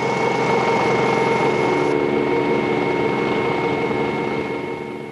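A Westland Scout helicopter flown manually over Boscombe Down airfield gives a steady, loud engine and rotor drone with a constant whine, unbroken throughout and easing slightly at the end.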